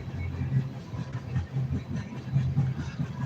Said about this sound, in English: That is a very American sound, the train.